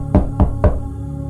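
A man knocks on the door of a house, three firm knocks at an even pace, close and fairly loud, then quiet room tone.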